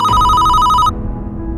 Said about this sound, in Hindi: बख्तावर के स्कूल से कॉल आ रही है